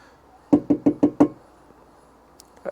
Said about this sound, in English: Here's what the safe sounds like with the door closed